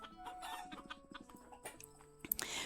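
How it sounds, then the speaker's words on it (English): A big rooster clucking in short, fairly faint bursts, with scattered background noise and a sharper, louder sound near the end. "come see this big old chicken"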